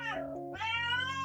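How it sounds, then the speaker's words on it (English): A pet cat gives one drawn-out meow, close and clear, rising then falling, with a brief break midway and no other sounds around it. "That was my cat."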